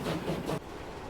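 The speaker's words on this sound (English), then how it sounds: "Our train is arriving after traversing the coast." A train arrives in the simulation game Transport Fever 2 after running along the coast. Its low rumble rolls along steadily, then drops abruptly to a quieter hum.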